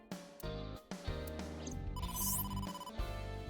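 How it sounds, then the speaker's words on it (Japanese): A phone rings in the video game AI: The Somnium Files, a chiming electronic ringtone of repeated tones set over the game's low background music, with no speech. "だってモーマから電話が。"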